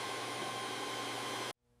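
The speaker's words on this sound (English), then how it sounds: "This vacuum is powerful. Watch all the dirt disappear." A vacuum cleaner sucks up dirt inside a neglected, wrecked Rolls Royce car. It gives a loud, steady, close whooshing roar that cuts off abruptly, leaving a faint hum.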